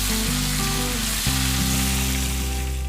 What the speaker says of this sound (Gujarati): હવે આપણે ગ્રેવીને મસ્ત રીતે તેલની અંદર મિક્સ કરી લઈશું